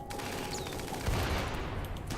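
Rapid bursts of gunfire from a cannon-armed fight in the video game Rimworld, a dense crackling barrage that swells at about one second and stays loud and continuous to the end.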